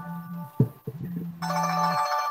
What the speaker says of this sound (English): I've got to take this phone call.